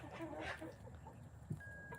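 Hens in a chicken coop give soft, scattered clucks, faint and close, over a low background hum.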